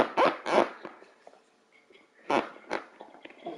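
A dog in a room lets out two sharp close barks, goes quiet with faint whimpers, then gives two more barks.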